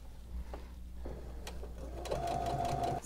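A sewing machine stitches piping onto the front edge of a throw pillow, with a few soft handling clicks before a short, close burst of stitching near the end.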